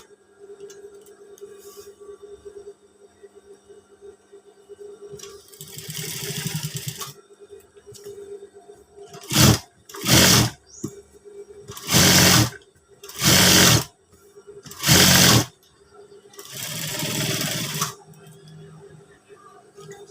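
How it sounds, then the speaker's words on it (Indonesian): A sewing machine stitches batik fabric in several bursts, loud whirring runs starting and stopping with short pauses between them, over a faint steady hum. "Lanjut kita jahit yang pas bagian sini tadi."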